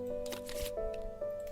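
Cards for the Frosthaven board game being shuffled by hand, quick papery riffles and slaps in short bursts, close up over a faint steady tone.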